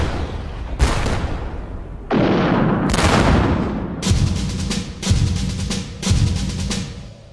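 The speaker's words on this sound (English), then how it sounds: "On the 15th of July, British artillery began pounding the German defences." A British artillery barrage shelling German defences on the Western Front in July: heavy booming blasts land one after another at roughly one-second intervals, loud and rumbling, with dense crackling gunfire between them and no speech.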